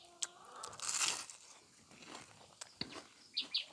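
Someone bites into and chews a crisp fried pumpkin flower, with a few sharp crunches scattered across a few seconds, near and fairly quiet.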